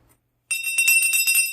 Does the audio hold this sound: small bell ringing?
yes